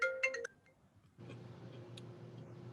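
A phone ringtone chimes in a quick burst of bright electronic tones, then cuts off, leaving a low steady room hum for the rest of the moment.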